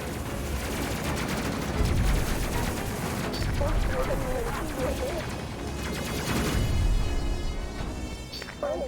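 A ship's forward gun fires in the video game Space Crew, a sustained, loud, rapid stream of shots with background game effects, steady for the whole stretch.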